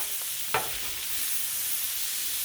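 Bacon and corn fry on a Blackstone griddle in a steady close sizzle, with a brief scrape of stirring near the start and no talking.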